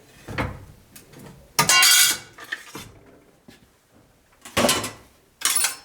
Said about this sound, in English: In case you're wondering, this is called a throatless shear.